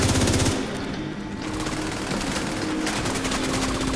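Rapid automatic gunfire in The Division 2 during a raid, loud and dense bursts that keep up for several seconds with a brief lull near the start.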